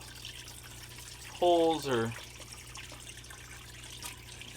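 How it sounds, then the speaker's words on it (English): Water runs steadily through a gold sluice box set up over a mat, a continuous trickling wash with a short burst of voice cutting in partway through. "The sluice boxes are running, and we are ready to go."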